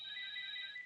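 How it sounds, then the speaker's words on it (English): A telephone rings in a short electronic trill, a steady high warble that is clear and moderately loud against a quiet background. "there's a telephone ringing"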